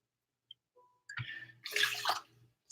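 Water is poured into a pot for wild rice in a short, splashing burst that rises and then trails off, preceded by a couple of faint clicks and a clunk.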